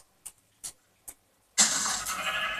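Sheep in a video game gives three short, evenly spaced bleats, then a loud burst of harsh, rushing noise takes over until the end.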